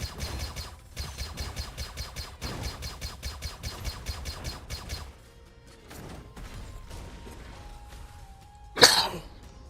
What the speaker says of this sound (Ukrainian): И не кашляй ты мне тут